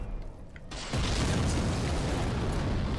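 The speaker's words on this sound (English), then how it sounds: "keep moving because you don't want to get hit by those fire bombs" A fire bomb in the game Dark Souls bursts with a sudden roar that swells into a loud, sustained fiery rumble after a quieter start, with no talking.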